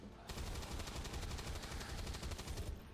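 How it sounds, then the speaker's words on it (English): Rapid, fairly faint burst of gunfire from soldiers in the video game XCOM 2, a dense rattling volley lasting a couple of seconds without talk. "So we'll move over there with the heavy and take some very aggressive shots."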